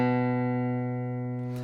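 A single guitar note is plucked at the second fret of the A string and rings cleanly, slowly fading, with a small scrape of the string near the end.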